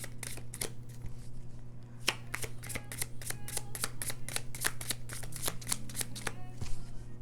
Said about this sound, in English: Let's go ahead and pull a card.